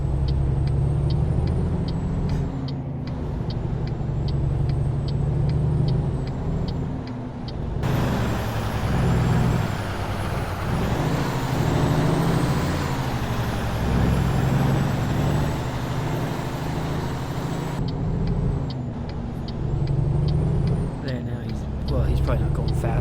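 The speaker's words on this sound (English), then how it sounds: "I'm driving a truck here." Heavy truck hauling 80,000 pounds in American Truck Simulator, a steady low engine rumble that swells in the middle, with someone talking over it.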